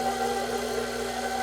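An electric mixer runs steadily in first gear while mixing sugar into carrot cake batter, a continuous motor hum with a constant tone throughout, fairly close and without talk.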